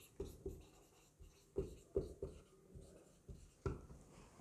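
Chalk or marker tapping and scratching on a board during a history lecture, about a dozen short, close strokes in an irregular rhythm with quiet pauses between them, no talking.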